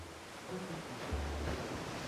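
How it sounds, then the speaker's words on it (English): Waves crashing on rocks below a narrow coastal cliff path, heard as a steady broad roar of distant surf mixed with wind noise, with no clear individual breaks. "you can hear the waves crashing down on the rocks below you"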